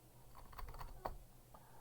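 Soft, scattered keystrokes on a computer keyboard, a few light taps spread unevenly with one slightly firmer press, faint and close against a quiet room hum.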